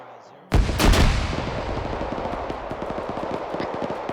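Grenade machine gun in ArmA 3 opens up with a sudden loud burst of heavy thumping shots, followed by a steady rapid stream of impacts and reports rolling on in a dense, echoing barrage.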